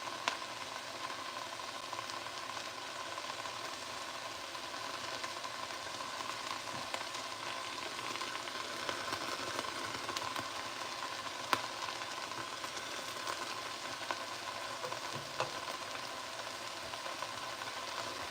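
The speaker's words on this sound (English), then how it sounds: "So these are yellow onions, and I used 2 of them. And I'm going to let them caramelize" Two yellow onions frying and caramelizing in a pan for potato tacos, giving a steady, even sizzle that holds at a moderate level throughout with no talking.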